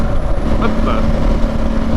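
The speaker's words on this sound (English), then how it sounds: "I keep hitting that false neutral going into fifth" A Ducati Multistrada Enduro motorcycle engine drones steadily at close range while the rider rolls along in false neutral, with a broad road and wind rush underneath.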